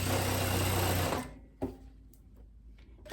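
Sewing machine running steadily on a viscose dress strap for over a second, then stopping, followed by a faint click and quiet handling sounds.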